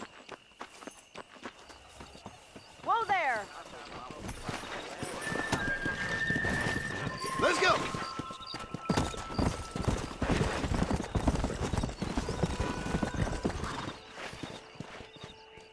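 Horse hooves clip-clop in a steady walking rhythm during a ride in a video game, with a brief neigh early on and continuous hoofbeats up close.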